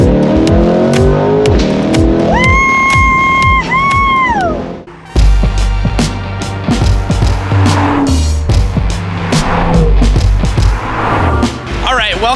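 A Ferrari 488 engine revs hard nearby, a loud rising and falling wail that climbs, holds, then drops before a brief cut and a second sustained, roaring pull, with rattles and voices faintly underneath.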